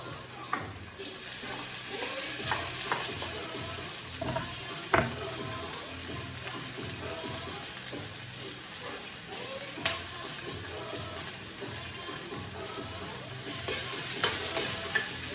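Garlic and onion sizzle and fry in a pan while being stirred, a steady crackle with scraping utensil strokes and a few sharp knocks against the pan.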